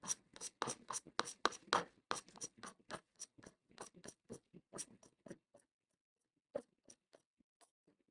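Digits are handwritten on paper, heard as quick scratchy pen strokes in rapid bursts that grow sparser and fainter, close and quiet, with no voices.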